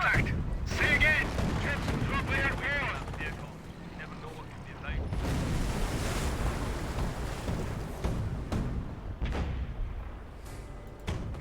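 An artillery barrage strikes a base in the game Company of Heroes, with repeated heavy booms and blasts over rumbling battle noise, mixed with game voices and other sound effects.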